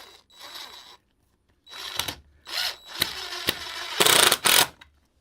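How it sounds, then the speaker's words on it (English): A power drill drives slightly too-long screws at an angle into wood in a garage, with several separate close whirring bursts, rising and stopping between short pauses. "I'm putting them in crooked so they don't pop through the wood"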